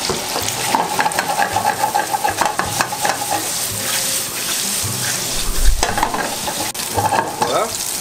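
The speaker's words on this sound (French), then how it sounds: "Quand les lardons commencent à colorer, j'ajoute mes champignons." Bacon lardons and mushrooms fry in a pan with a loud, continuous crackling sizzle, broken by scraping and stirring clatter throughout.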